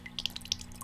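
Short water splat sample, a few quick wet drips and splashes over under a second, close and fairly quiet, with a faint steady hum underneath.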